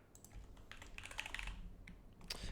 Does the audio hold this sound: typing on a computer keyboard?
yes